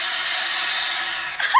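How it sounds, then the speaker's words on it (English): An Avid Armor Cellar Series Reserve chamber vacuum sealer releases its vacuum in a steady, loud rush of hissing air that holds evenly, then tapers into a short puff and faint click at the end. "You're going to notice every minute it's going to release the vacuum, and this is a good thing."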